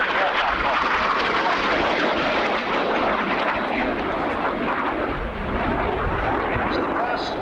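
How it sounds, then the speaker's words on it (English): Panavia Tornado twin-engine supersonic strike aircraft at a 1989 RAF Scampton airshow, a loud continuous jet roar holding steady throughout as a voice talks over it. "Twin-engine supersonic strike aircraft"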